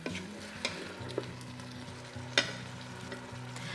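Ground meat with Worcestershire sauce sizzles steadily in a pan as a utensil stirs it, with occasional scraping knocks against the pan and low kitchen hum, close up and without talk.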